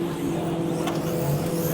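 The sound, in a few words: drift cars revving before a tandem run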